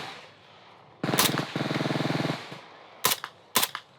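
A young girl in Oklahoma fires a gun on semi-automatic: a sharp report, then a run of quick pulsing pops, and two more loud separate shots after a pause, all nearby and with no voices.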